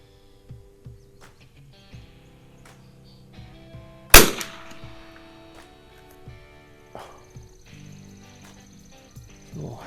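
A Winchester 52C target rifle built in 1961 fires a single Norma tac-22 round, a sharp, loud crack midway through, surrounded by faint clicks and a soft chirping outdoor background.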